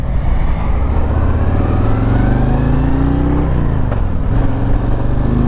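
A Harley-Davidson Road Glide Limited with a Milwaukee 8 engine accelerates loud and close, a deep throbbing exhaust rising steadily in pitch, dipping briefly as it shifts gear, then pulling on again.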